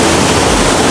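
Waterfall pouring down between the mountains of a Swiss canyon, a loud, dense, continuous roar of falling water heard close up and alone.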